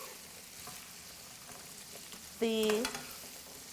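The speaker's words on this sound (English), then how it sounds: "asparagus and the garlic and the oil is getting really nice and blistered" Asparagus, garlic and oil sizzle in a pan for springtime asparagus pasta, a steady soft frying hiss under a brief tonal clatter partway through.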